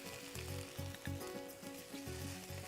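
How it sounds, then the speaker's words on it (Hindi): Vegetables for a korma fry in a pan, a close, continuous sizzle broken by rhythmic scraping stirs about every quarter second, with no voices. "हल्का सा इसे और भून लीजिए।"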